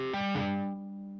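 Distorted electric guitar, loud and close, with a note shifting upward as a finger hammers on at the 7th fret, then the tone rings on and slowly fades.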